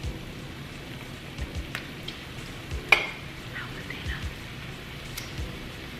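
Meat for Korean barbecue sizzles and crackles steadily on a tabletop grill, a close, continuous hiss dotted with small pops and an occasional sharp tap of utensils, with no one speaking.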